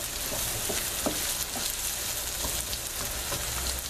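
Small chopped red potatoes fry over low heat in a pan for corned beef hash, giving a steady, dense sizzle with faint scattered pops and stirring scrapes, close and continuous.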